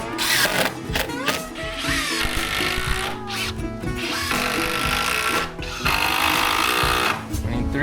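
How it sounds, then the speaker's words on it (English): A power drill drives screws into countersunk holes in wood during a sunken catamaran rebuild. Loud, close whirring bursts rise and cut off repeatedly with brief pauses between them. "I countersink some holes because these screws aren't quite long enough, so now they'll sit like this and have plenty of bite into this wood"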